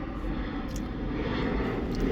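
An airplane drones steadily overhead in the background, a broad continuous rumble holding level for a couple of seconds with no voices.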